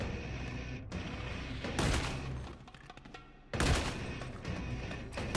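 Guard rifles unleash volley fire in a Warhammer video game, two loud bursts of rapid gunfire a couple of seconds apart over continuous battle noise.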